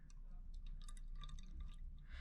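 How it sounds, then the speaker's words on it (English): Water trickles quietly into a cup during a chromatography experiment, with faint drips and filling splashes against a low background hum over a couple of seconds. "I'm going to add some water in here."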